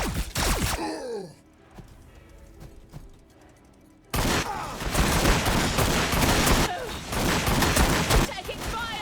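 Gunfire in a Warhammer 40,000 game battle between Astra Militarum and Orks: loud volleys of rapid shots, a brief quieter stretch with scattered pops, then heavy sustained firing with gasps and voices mixed in.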